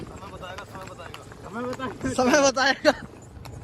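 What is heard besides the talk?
horse hooves clip-clopping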